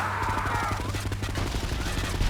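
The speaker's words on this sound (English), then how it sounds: "Maybe I could drive beside the driver and shoot him" Rapid video-game gunfire in GTA Definitive Edition, fired at a car driver, crackles as a fast, dense burst of shots over a droning engine, continuous and fairly loud.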